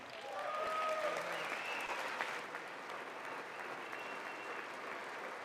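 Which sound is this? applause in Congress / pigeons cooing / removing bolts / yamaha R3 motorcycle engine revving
applause in Congress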